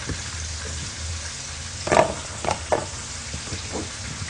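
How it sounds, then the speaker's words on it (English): Coated fish frying in hot oil, a steady soft crackle with a few louder pops and spits standing out over the continuous sizzle. "I'm just going to coat all of them and get them all fried up."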